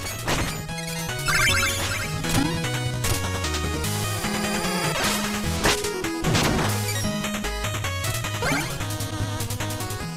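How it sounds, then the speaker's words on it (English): Checkpoints get smashed in Shovel Knight, with sharp crashing whacks that land repeatedly over bright, busy chiptune background music. "So I set about smashing all the checkpoints."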